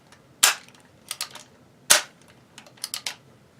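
An empty Model 94 lever-action rifle is cycled, producing crisp metallic clacks in a few quick clusters, sharp and close against near silence.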